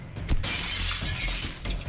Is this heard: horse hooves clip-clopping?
no